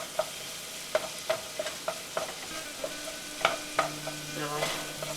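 Onions frying in a pan for kibbeh give a steady quiet sizzle, broken by sharp clicks and taps of a utensil stirring against the pan, with no voices.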